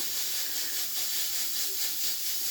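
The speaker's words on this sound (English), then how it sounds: "That's the pressure cooker." A pressure cooker releases a steady, loud steam hiss that runs unbroken throughout, with slight pulsing swells in a home kitchen.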